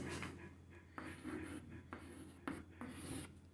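Chalk or marker scratching across a board during a physics lesson, a run of close, rubbing strokes in short bursts with brief pauses between them and no talking.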